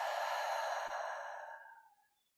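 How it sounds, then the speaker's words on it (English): Long, deep breathing-out during a kundalini yoga breathing practice, one smooth breathy exhale up close that fades away over about two seconds. "Inhale a little more. And exhale."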